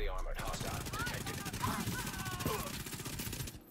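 High-end SMG fire in The Division 2, with dense, rapid bursts of automatic shots rattling continuously over game ambience, loud and close for most of the stretch before cutting off.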